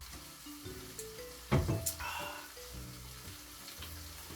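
Curry simmering in a pan, a faint steady sizzle and bubble under a low background hum, with a brief louder burst of clatter and stirring in the middle.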